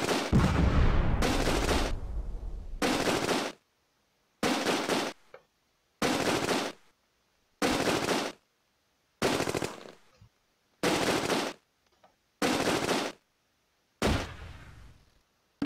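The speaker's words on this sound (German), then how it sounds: "Unter schwerem Beschuss!" Video-game gunfire from a battle at Nijmegen Bridge: loud, dense bursts of machine-gun and rifle fire come in evenly spaced sustained volleys separated by short silences, close and harsh, with no talking.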